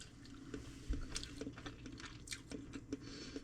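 Close, soft chewing of Vietnamese meat pie filling fresh from the air fryer, with wet squishy bites and small crunches in an irregular rhythm, quiet and alone.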